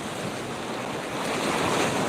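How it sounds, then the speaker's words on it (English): Ocean backwash surges and splashes onto the beach at Hastings, Barbados, a loud continuous wash of surf with wind buffeting the microphone. "we just get away from the backwash splash"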